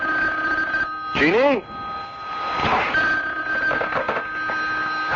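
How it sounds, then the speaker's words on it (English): A telephone rings in a radio drama, one short warbling burst heard close and clear, followed by a voice speaking over a faint steady hum. "Bobby, darling, you'd better answer the phone."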